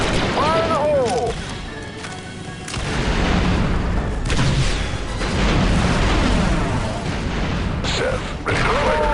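A thrown grenade detonates during squad combat in Star Wars Republic Commando, a heavy boom near the middle with continuous gunfire and mechanical battle noise around it, and voices calling out over the din.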